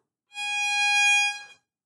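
A single sustained violin note bowed on the E string, steady and clear with rich bright harmonics, lasting about a second and a quarter before stopping, played alone with no talking.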